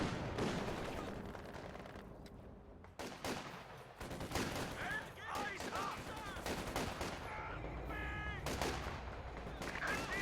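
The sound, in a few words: machine gun fire in video game Company of Heroes 2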